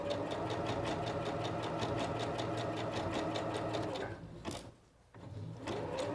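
A Singer Professional 9100 sewing machine stitches a blind hem in a skirt, running in a steady, rapid mechanical rhythm up close, briefly pausing and slowing before starting up again.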